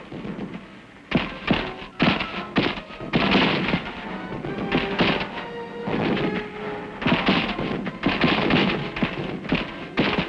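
Dense Korean War combat from 1951, with rapid gunfire and artillery bursts at close range in rugged hill fighting, forming a continuous cracking, thudding barrage of overlapping shots and blasts.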